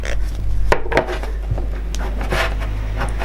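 Wooden embroidery hoop being tightened over calico fabric, giving close, loud rubbing and creaking scrapes with a few sharp knocks, sounding alone.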